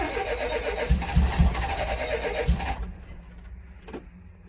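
An old 1992 ambulance van's engine cranking but failing to start, a loud rough whirring with a few heavier pulses for nearly three seconds, then stopping into quiet with faint clicks.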